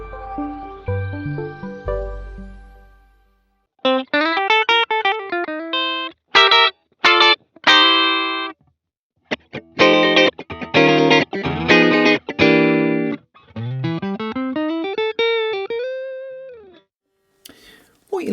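A Line 6 Variax 600 modelling guitar emulates a 1960 Telecaster, playing bright twangy single notes and chord stabs in phrases broken by pauses, opening with a low sustained chord.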